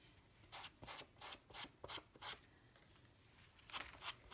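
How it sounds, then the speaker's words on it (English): A card edge is rubbed along an ink pad in a series of short, soft scraping strokes with a steady back-and-forth rhythm, quiet and close, with a pause midway. "You just rub it along the ink pad."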